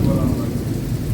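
Steady, dense rain falls with a low rumbling undertone, a continuous wash of noise lasting about a second.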